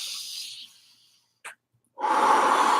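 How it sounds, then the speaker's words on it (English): Deep breathing during a home martial arts workout: a long airy exhale fades out, then a brief sniff, then a strong, loud inhale rushes in close to the microphone. "Nice deep breathing."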